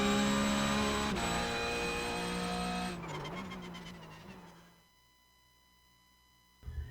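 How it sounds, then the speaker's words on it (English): A Porsche 911 GT3 lapping the Watkins Glen race track, its engine howling at high revs and then falling away as it passes and fades into the distance, with no one talking. "Amjad Yaman behind the wheel of our brand new Porsche 911 GT3, taking you around here, Watkins Glen"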